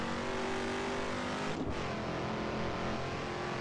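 A Shelby Cobra races around Spa in Assetto Corsa, its engine roaring loud and constant, with a brief dip as it shifts gear midway before the roar resumes.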